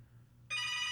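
Phone suddenly starts ringing with a bright, sustained electronic ring that cuts in halfway through after near silence, loud and steady.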